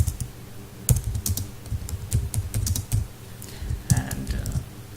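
Rapid, irregular clatter of keys on a computer keyboard as Java code is typed, close and steady with short pauses between bursts, no talking.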